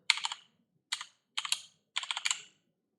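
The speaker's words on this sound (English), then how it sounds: "We will type conda activate and then the name of our" Close, crisp clicking of keys on a computer keyboard as a terminal command is typed, in four short clusters of quick keystrokes over a silent background.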